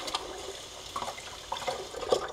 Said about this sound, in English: we're going to actually rinse it in the water here